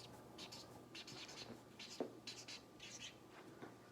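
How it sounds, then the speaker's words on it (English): A marker scratches across paper while a word web is filled in, a series of short, faint strokes in quick bursts with brief pauses, heard close in a quiet room. "So I'm going to write that at the top of my web."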